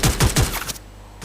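CG15 fire in the Free Fire video game: a rapid burst of about four close, punchy shots in quick rhythm, then a pause and one more shot.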